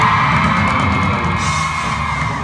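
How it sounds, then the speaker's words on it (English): A convention audience screams and cheers loudly in a dense, continuous roar of yelling and whooping voices that fills the room without a break. "Ain't nothing wrong with a couple screams"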